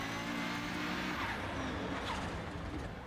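A heavy, front-engined Group B rally car in a racing video game roars loud and steady at high revs, with tires scrabbling and squealing as it pushes through corners.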